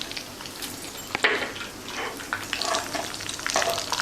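Mustard seeds, nigella and fennel seeds crackle and sizzle in hot oil in a pan. A steady frying hiss is broken by scattered pops, and a sharp clatter comes early on.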